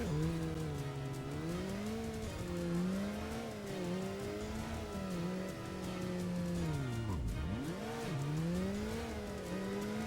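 Car engines in traffic in the Dreamcast game Headhunter, a steady droning motor whose pitch rises and falls as the car weaves between lanes, with a quick swooping dip near the end as a vehicle passes. No one speaks.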